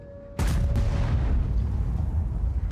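A World of Tanks tank gun, on an AMX M4 54, fires one sharp, loud boom after a quiet moment, and a rumbling decay trails off afterward.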